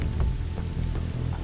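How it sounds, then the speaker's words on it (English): Rain beating down during a tabletop roleplaying session, a dense continuous patter with a low rumbling backdrop, steady and fairly loud with no talking. "the rain beats down above you"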